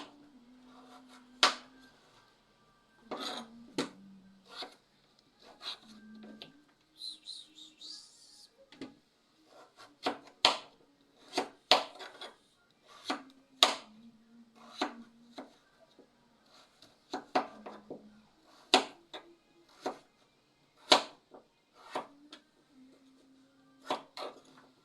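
A knife chops squash on a wooden chopping board in a long run of sharp, close knocks, sometimes single and sometimes in quick pairs, over a faint low hum with a brief higher squeak partway through.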